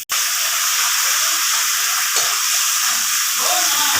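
Loud, continuous hiss and sizzle as water hits sour leaves in a hot pan, steam rising steadily at close range with a few faint bubbling pops.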